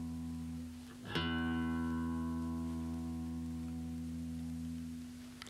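Guitar low E string plucked once as a tuning reference, a single clear note ringing out with a long, slowly fading sustain after a brief faint tone before it.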